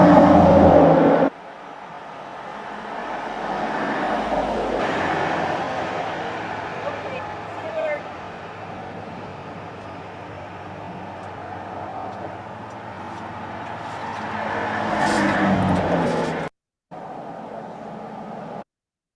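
Traffic on a neighbourhood residential street between 4 and 4:30 on a weekday afternoon, cars passing with a broad rumble that swells and fades, a loud spell at the start and again near the end, then an abrupt cut.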